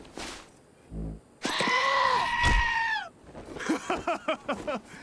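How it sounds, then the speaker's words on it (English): A goat in the video game Wasteland 2 lets out a long, wavering bleat at close range, followed by a series of short, pulsing bleats, with a thump and an early scream nearby. "we got headbutted by a goat"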